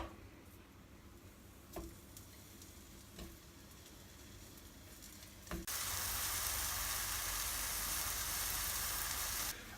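Food is dropped into a pan while cooking in a Rijeka, Croatia kitchen; after a few faint clicks, a loud, steady hiss of sizzling bursts in and continues to the end.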